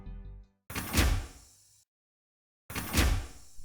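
A door bursting open as a sound effect in a tabletop battle scene, two sharp, loud crashing bursts separated by a brief silence, heard alone without talk.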